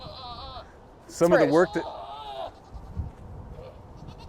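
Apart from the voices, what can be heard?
goat bleating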